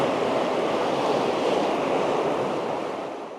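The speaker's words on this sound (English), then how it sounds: "Look at the torrent." A flooded river torrent rushing past a Welsh homestead, a loud, steady broadband roar of churning water that holds constant and eases slightly toward the end, with no voices.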